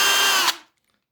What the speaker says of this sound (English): I will use the drilling machine for this.